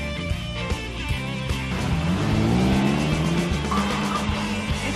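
A BMW car is driven hard through curves taken at 45 to 50 in a 35 zone, with a steady engine drone and tires squealing and whining as it rounds a bend, heard from inside with music faintly underneath.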